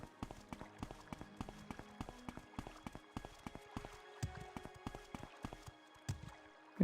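Video game character footsteps patter in a quick, regular run of soft thuds, fairly quiet and close, continuing for several seconds without speech.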